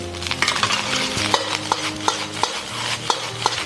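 Rice with salted egg white is stir-fried in a wok, a loud close sizzle cut by sharp rhythmic scrapes and clanks of the spatula on metal, about three per second.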